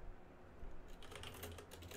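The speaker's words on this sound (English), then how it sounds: "Whoa, why am I typing like a teenager?" Quick computer keyboard typing begins about halfway in, a rapid run of soft, close key clicks over a low background hum, with no speech.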